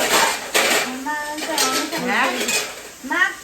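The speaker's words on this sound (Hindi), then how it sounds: "दीदी यहाँ आ रही हैं, बर्तन कर रही हैं साफ" Dishes and cutlery clatter and clink repeatedly in a home kitchen as a woman washes up, the clanks close and irregular, with a few voices and brief kid-like tones woven through.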